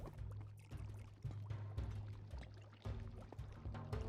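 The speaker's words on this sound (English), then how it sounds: "it should actually make the water come out and those water wheels spin" Water pours steadily onto spinning water wheels in the Minecraft Create mod, a continuous splashing gush with irregular bursts, fairly loud and heard alone without talk.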